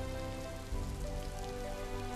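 Steady rain falling on a surface, a dense continuous patter filling the background with no pauses.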